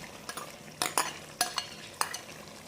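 Chicken liver frying with spinach and fresh coriander in a pan, a soft sizzle broken by several sharp scrapes and clinks of a spoon stirring at irregular intervals, close by with no talking.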